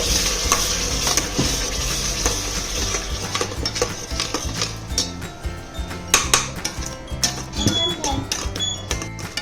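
Ground masala paste sizzles and fries in a pan while a metal spoon stirs and scrapes against it, with repeated clinks over a steady hiss; a voice speaks at times.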